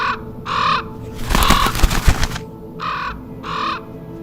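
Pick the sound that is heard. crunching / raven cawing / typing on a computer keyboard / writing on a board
raven cawing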